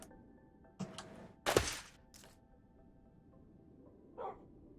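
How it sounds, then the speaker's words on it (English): A dog in a modded Minecraft game gives short barks and yips, a couple of quick sounds early, a louder bark in the middle and a faint whimper near the end, over quiet background. "Oh, hi dog! I guess you live up here now."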